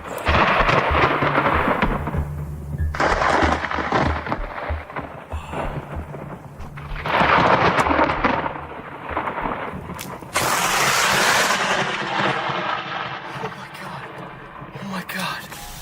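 Close lightning strikes in a thunderstorm land nearby, heavy cracks and rumbling thunder repeating through the stretch amid rain, with someone talking excitedly over and between the booms.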